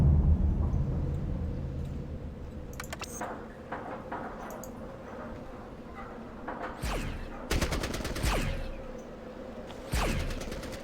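Distant light machine gun bursts in the game Fallout Tactics, fired from long range: a few separate sharp crackling volleys over a low rumbling background, without talk.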